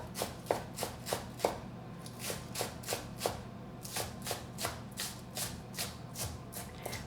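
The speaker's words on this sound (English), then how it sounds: "And we cut some onion. I want to cut it really small and nice." A knife chopping onion into small pieces on a cutting board, a steady run of crisp, evenly spaced chops close up, with no talking.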